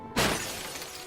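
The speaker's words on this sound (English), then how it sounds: "His face shatters and falls to the ground." A sudden loud shattering crash like breaking glass or brittle material, a sharp impact followed by a lingering spray of falling debris that fades slowly, heard alone.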